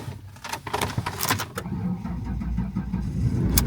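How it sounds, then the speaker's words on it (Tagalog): A car engine cranks with a few stuttering bursts, then catches and settles into a steady, loud idle rumble close by. "nag-start na yung sasakyan"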